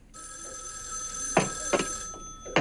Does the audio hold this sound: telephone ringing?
yes